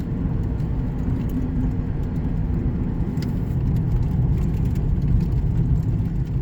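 A Mercury Grand Marquis, a car with a slight pull, drives along with a steady low engine and road rumble and continuous tire hum, no voices.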